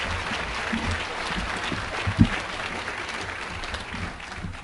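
An audience at a university diabetes research center naming event applauds steadily for several seconds, a dense wash of clapping with one sharper clap standing out midway.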